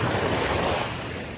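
Morning surf at the beach rolls in with a loud, continuous roar of ocean waves close by, with some wind buffeting the microphone and no talking.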